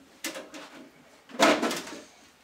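A PC case side panel pulled off during a gaming PC build: two short, quiet scraping knocks about a second apart, the second longer and louder, against a near-silent room.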